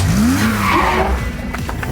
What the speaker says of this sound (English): Michael Myers do a pretty sick burnout in Ash's car